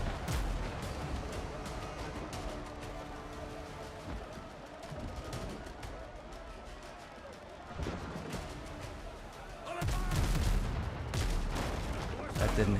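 Video game gunfire from mounted guns crackles in dense, continuous bursts with heavier booming volleys near the end, a steady barrage mixed under occasional talk.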